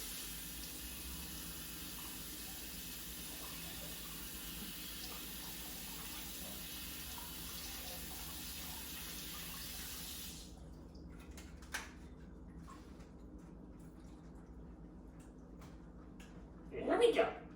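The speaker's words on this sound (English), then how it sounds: "Wash off those blueberries." A kitchen tap runs in a steady, soft hiss while blueberries are washed under it, then it shuts off about halfway through. Quiet handling clicks follow, and a short burst of voice comes near the end.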